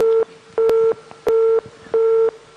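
Busy tone on a telephone line after a caller's connection drops: loud, regular beeps of the same pitch, four pulses evenly spaced with short silences between.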